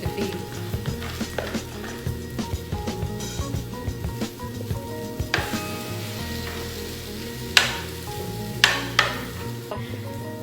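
Shrimp cakes fry in a pan with a steady sizzle, and scattered clicks and taps from a utensil and the pan sound throughout. Several sharper knocks come near the end. No one speaks.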